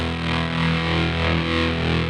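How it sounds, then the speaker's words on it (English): A guitar runs through a Walrus Audio Janus pedal, with tremolo blended with a little fuzz. It gives a loud, steady, buzzing distorted tone with a gentle pulsing throb, playing alone without any voice. "So the tremolo, just the tremolo, and slightly blend in the fuzz"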